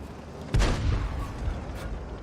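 A single heavy boom from a 105 leFH18B2 artillery gun firing in a tank video game, one sharp report followed by a rumbling tail against a quiet background.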